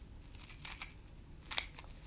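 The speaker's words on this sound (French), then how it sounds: "vous découpez à nouveau sur la ligne tracée" Scissors cut patchwork fabric along a traced line for a doily, giving two short bursts of crisp snipping, one early and one later, close and quiet with no talking.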